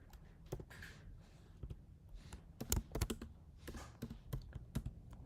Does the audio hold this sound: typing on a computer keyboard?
yes